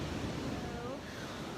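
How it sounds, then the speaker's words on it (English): Morning ocean waves at a beach, a continuous broad wash of surf mixed with wind rumble on the microphone, steady and fairly loud throughout. "there is no better relaxing sound than the sound of the ocean waves in the morning with fresh air"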